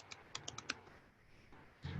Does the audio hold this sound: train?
no